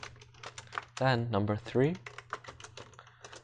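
Rapid clicking keystrokes on a computer keyboard run steadily beneath someone talking.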